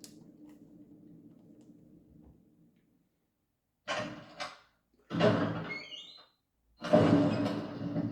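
A door opening in Resident Evil Remastered: after a low rumbling hum fades to silence, a creaking, grinding door sounds in three loud separated bursts, each heavy and resonant, the last one longest.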